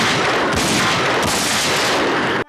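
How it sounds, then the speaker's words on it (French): Loud, dense gunfire in a scene from the film Cyborg Cop, where a man is shot several times without hitting a hostage. The shots blur into one continuous blast that cuts off abruptly at the end. "décide d'abattre le malotru de plusieurs balles sans toucher l'otage"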